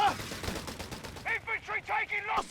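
Machine gun fire in the strategy game Company of Heroes 3, a rapid rattling burst of shots, fairly close, with a voice briefly audible at the start.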